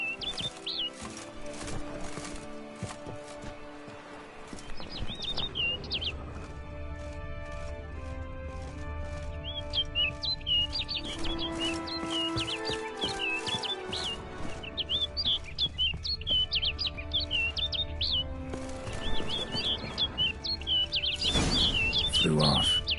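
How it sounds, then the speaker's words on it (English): Bird chirps and tweets scattered through a busy video-game soundscape in The Witcher 3: Wild Hunt, bright calls recurring over music and ambient layers with hoofbeat-like clopping, no voices. "Looks like the bird's leading me somewhere."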